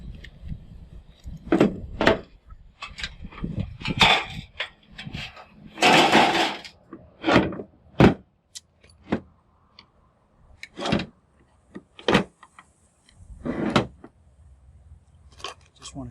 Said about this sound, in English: nice ballast here. Let's see if we can open it up real quick